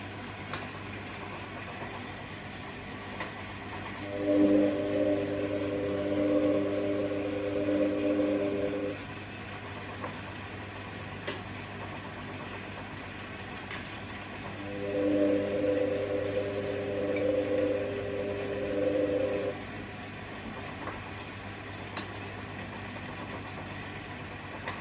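A washing machine runs its thermo spin drying cycle with a steady low hum. Two several-second surges of tonal motor whine rise above it, and faint clicks occur now and then.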